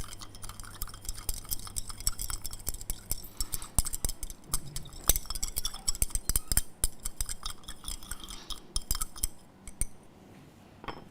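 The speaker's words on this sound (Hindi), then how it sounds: "ग्लास रॉड की सहायता से चलाएं अथवा इसे हिला करके हम लोग घुलाएं।" A glass rod stirs sugar into water inside a glass beaker, giving a quick series of light clinks and taps against the glass, fairly close and clear, with no speech.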